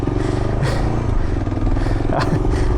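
A stalled Yamaha FJ09 motorcycle engine gives a loud, steady low rumble with rattly clatter throughout, close up.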